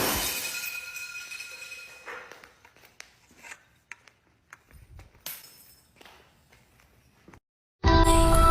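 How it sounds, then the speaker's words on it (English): Broken glass swept up during a night shift, scattered sharp clinks and scraping shards over several seconds, then a sudden loud burst at the end. "They got me cleaning up all this broken glass."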